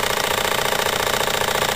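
A Jensen 25 model steam engine fitted with a simple displacement lubricator runs steadily, giving a close, continuous mechanical whir with a fast, even chuffing pulse and no pauses.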